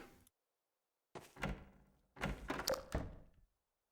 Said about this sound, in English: Interesting door sound effects.